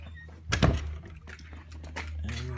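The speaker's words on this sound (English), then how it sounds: "And we lock the door." House door being closed and locked: a sharp thunk of the door, followed by small metallic clicks and rattles of a key or latch, then a faint creak, with steady background hum.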